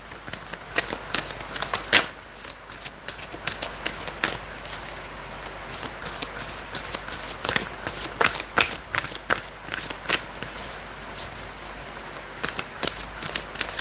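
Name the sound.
shuffling tarot cards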